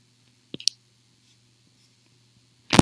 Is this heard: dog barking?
no